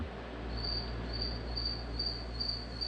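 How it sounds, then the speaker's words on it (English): A cricket hidden somewhere inside a house chirps in a steady repeating pulse, a thin shrill trill about every half second over a low constant hum, with no talk. "I'm gonna murder a cricket. This thing is wearing me out. Can't find it, and it's making all kinds of noise."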